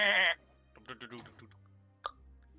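A voice imitates a fainting goat with a short, loud, nasal bleat, followed by quieter clicks and vocal noises and one sharp click near the end.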